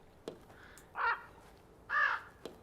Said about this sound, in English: There's a bird picking at the window.